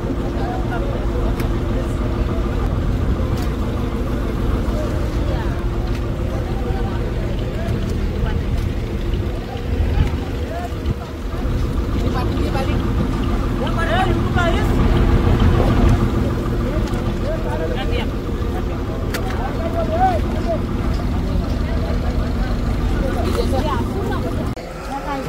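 Fishing boat rocking at Sassoon Dock in Mumbai before dawn, a steady low engine drone and water wash running continuously with people chatting and a busy murmur around it.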